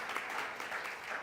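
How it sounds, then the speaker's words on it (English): An enthusiastic crowd claps steadily and evenly throughout at a Black women's leadership event in the Harrisburg area, with a brief swell of dense applause and no talk over it. "as you hear how enthusiastic the crowd is"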